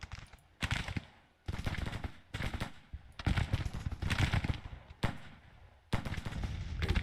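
Cannon and artillery fire from a Gettysburg battle in the strategy game Grand Tactician: repeated heavy booming volleys in loud bursts with brief lulls between them, no voices.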